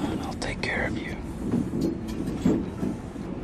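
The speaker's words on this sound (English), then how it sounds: "The train is literally moving" A train moves in a scene from the 2000 X-Men film, a low continuous rumble with faint clacking running under hushed voices and whispering.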